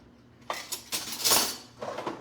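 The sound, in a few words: grabbing a tablespoon, cutlery clinking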